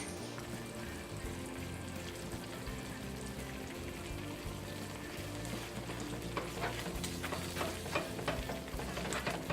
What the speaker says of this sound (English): stirring it so nothing burns